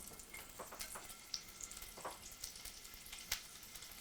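Shrimp sear in a hot pan for shrimp scampi with a soft, continuous sizzle and scattered crackles and pops, quiet and left untouched, with no voices.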